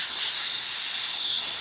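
Steady, loud hiss of steam from the steam wand of a DeLonghi Magnifica XS espresso machine, running continuously and evenly, with no talking.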